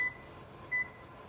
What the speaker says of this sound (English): We'll set our timer for 7 minutes.